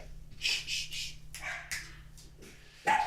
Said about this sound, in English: Me dogs are going wild.